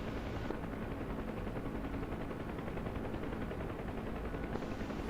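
Missile fired from a Cobra helicopter in the DCS combat flight simulator, a steady dense rushing roar with low rumble that holds for several seconds without letting up.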